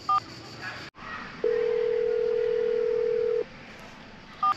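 A telephone is dialled to call someone: short keypad tones, then a steady tone held for about two seconds, all over a faint hiss with no talking.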